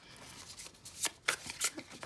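Tarot cards are shuffled by hand in several quick riffling bursts, close and crisp, each lasting a fraction of a second, with no voice over them.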